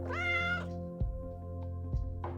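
A cat meows in a long, drawn-out, clearly voiced call at close range, followed by a couple of short, softer chirps over a steady low background hum.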